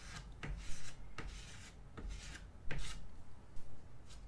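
Rhythmic scraping of excess oil paint with a tool, soft raspy strokes repeating roughly every second, close and fairly quiet with no talking.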